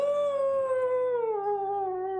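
A single long, wavering canine-like howl played as a sound effect during a tabletop role-playing game, loud and clear, sliding slowly downward in pitch over about two seconds, with no talk over it.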